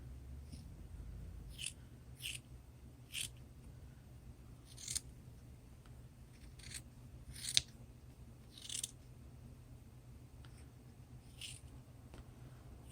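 Slightly dull snips cut out puppet parts in short, quiet, sharp snips, spaced irregularly over a low background hum.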